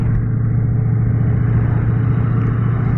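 A Yamaha Tracer 900 GT motorcycle is ridden along, its engine giving a loud, steady low drone close by with no break.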